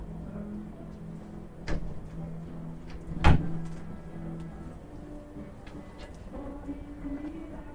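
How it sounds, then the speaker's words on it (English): A door being shut indoors in a meeting or presentation room gives one sharp, loud thud with a brief rattle, and a softer knock comes just before it against a low background hum. "I'm just going to shut this door."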